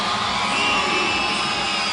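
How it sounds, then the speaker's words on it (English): A basketball arena crowd at an all-star game cheers and makes noise at the start of the second half, a dense, steady roar of many voices with whoops, filling the whole moment without letup. "the crowd getting excited for the second half. Making all kinds of noise here at Jam Sessions Center Court"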